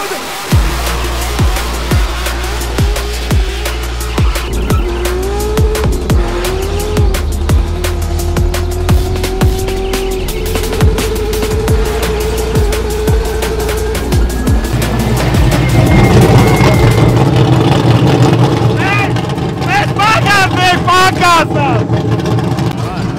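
Car drifting at the Biķernieki track, engine roaring steadily and revving with rising and falling pitch, tyre squeal toward the end, all under continuous talk from people nearby.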